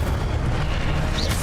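A loud, sustained fiery explosion from the Incendio fire spell in the video game Hogwarts Legacy booms densely for the whole moment.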